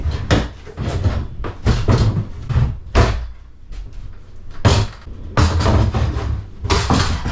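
Interior door of a boat being demolished and removed, a series of loud close bangs, knocks and slams in irregular bursts, with short rattling scrapes between the hits.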